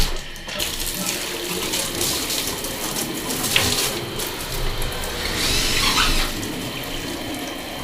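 Water rushes steadily through a newly installed tub and shower valve as it is flushed out to clear dirt, a continuous hissing gush that holds even from start to finish with no talking.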